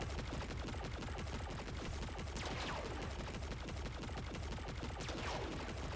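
Rapid, sustained gunfire from a gun in a video game, the shots packed into a continuous loud barrage with a few whooshing sweeps running through it.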